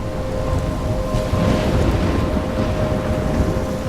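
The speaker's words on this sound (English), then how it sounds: "I'm trapped in a storm?" Stormy weather in the Life is Strange video game: a steady, loud roar of rain and wind with low rumbling like distant thunder, and a faint sustained tone running underneath throughout.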